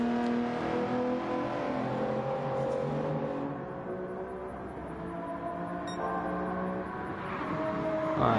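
A Toyota Supra's engine in a racing video game, held near and steady at pace with brief pitch drops as it shifts up early, whining continuously throughout.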